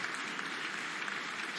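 A big stadium crowd in Treviso at an Argentina vs Italy rugby match applauds an injured player carried off on a stretcher, producing a brief, dense wash of steady clapping heard at a distance.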